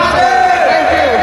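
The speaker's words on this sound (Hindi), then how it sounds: "बट गाइज बहुत भीड़, एते भीड़ रे भक्त मानकर उत्साहित टिके सुना" A large, excited crowd of devotees packs a Shiva temple on Shivaratri, a dense, close wash of many overlapping voices murmuring and calling out without pause.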